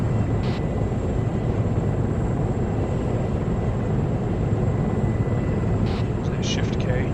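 Helicopter rotor and engine drone in a combat video game, a steady loud broadband roar holding at constant level throughout with no audible speech.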